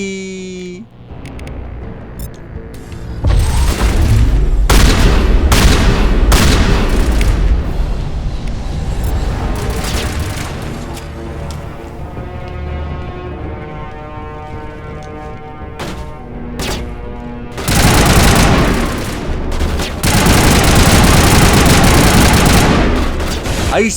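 Loud sustained bursts of gunfire in Mass Effect, rapid repeated shots and booming impacts in long volleys with brief lulls between them, close and dominant throughout.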